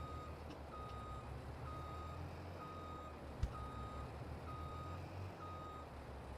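A truck in a British-map farming video game backs up with evenly spaced reversing beeps over a low engine hum, plus one brief thud midway.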